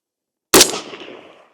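A single loud gunshot from a Zastava ZP Krinkov-style rifle cracks sharply after silence, then rings out in a fading echo that decays over about a second.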